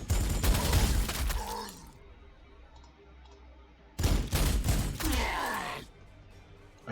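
Bursts of gunfire from Space Wolves units firing armor-penetrating rounds in the Warhammer 40,000: Sanctus Reach strategy game, two dense rattling volleys of about two seconds each separated by a quieter pause, loud and close.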